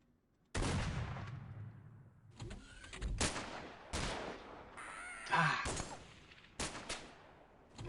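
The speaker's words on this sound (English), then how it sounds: "Guys I can't see are shooting me from in the smoke." Gunfire in The Xcom Files video game: a series of sharp, loud shots bursting out at irregular intervals, with brief reverberant tails and short pauses between them.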